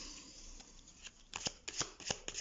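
Tarot cards riffled and shuffled by hand, starting with a soft faint rustle and building into a run of crisp, quick snapping flicks, close and quiet, with no voices.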